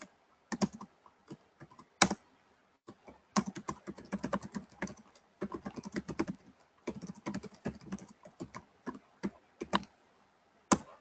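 Fast typing on a computer keyboard during shell command work, bursts of close, crisp key clicks with brief pauses between runs and a few louder single strokes, no voice over them.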